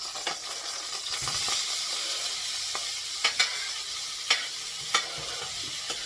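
Seasoning with garlic frying in about two tablespoons of oil, a steady close hiss and sizzle with a few sharp clicks of a utensil stirring the pan, no voices.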